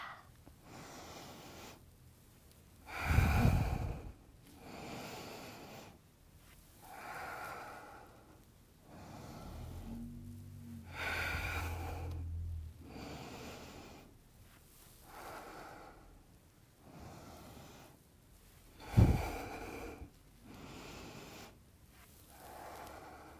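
Slow, deep breathing in and out during a core exercise such as bicycle crunches, with soft rhythmic inhales and exhales, close and quiet, and a few sharper audible exhalations.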